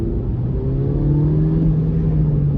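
A BMW 116i with its small turbocharged engine, in Sport Plus mode holding the gears, pulls hard with a steady engine drone and rumble that rises slightly in pitch under load, heard from inside the car without talk.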